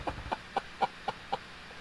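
A chicken clucks in a steady, evenly spaced series of about seven short, close clucks over quiet background noise.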